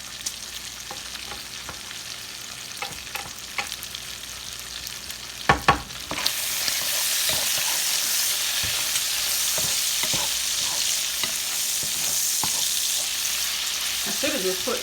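Seasoned green beans being stirred and tossed in a hot pan with bacon for barbecue string beans, a scraping, clattering stir over a steady sizzle that swells louder partway through, with no voices.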